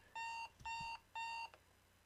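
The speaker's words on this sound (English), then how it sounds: "And our alarm clock again. And more alarm clock and more alarm clock." Alarm clock ringing in the video game DDLC Purist Mod: three evenly spaced electronic beep bursts, each about a third of a second, clear and alone with brief soft thumps between.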